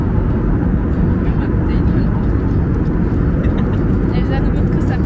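Airplane cabin just after takeoff, filled with a loud, steady low engine roar that fills the whole stretch.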